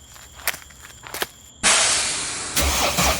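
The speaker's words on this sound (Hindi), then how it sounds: "कुछ ही देर में शंकर ट्रक को स्टार्ट करता है" A truck engine cranks after a couple of light knocks and footsteps, then catches with a sudden loud roar and settles into a steady, close idle that swells again a second later.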